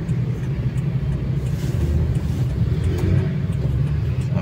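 Cars sit in slow, jammed traffic at the Park Serpong gate, giving a constant deep engine rumble with a dense low drone and no clear passing vehicles or voices.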